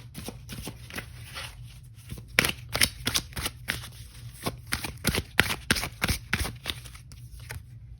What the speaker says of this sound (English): I do want to pull an oracle card here just to get a little bit more